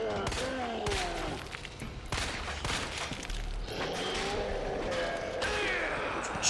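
Gunshots ring out in Resident Evil 2 Remake, several loud sharp blasts in quick succession over rumbling game ambience and clattering effects, with a voice talking over parts of it.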